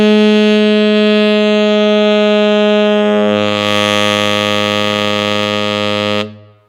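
Saxophone holding a bright harmonic, then dropping cleanly to its low B-flat fundamental, a sustained, loud, buzzy tone alone with no talking, ending in a quick fade.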